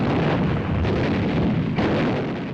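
Dense, continuous World War II artillery and gunfire from Japanese positions firing out of tunnels, caves and bunkers, a loud rumbling barrage of overlapping booms and blasts with no pauses.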